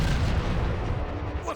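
Artillery cannon fire from a Transformers: Fall of Cybertron video game, a dense, continuous low rumble of heavy booms that stays loud through the whole stretch without clear gaps.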